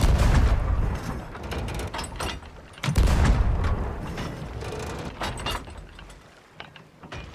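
Ship cannons boom in the Sea of Thieves pirate game, two heavy blasts a few seconds apart, each trailing off into rumble amid clattering, creaking mechanical noise.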